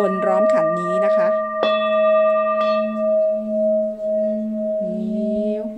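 A 9-inch, 1,910-gram brass singing bowl tuned to D sharp rings with a sustained, pulsing metallic tone, struck and then rubbed around its rim so the drone swells and wavers, close and loud; someone speaks briefly.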